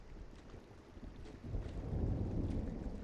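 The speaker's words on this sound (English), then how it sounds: "Hey, I heard some thunder." Low, rolling thunder from a storm in the video game Firewatch, a soft distant rumble that swells louder partway through, with a rain-like wash and no voices.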